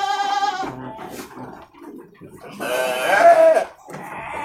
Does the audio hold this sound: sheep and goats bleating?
yes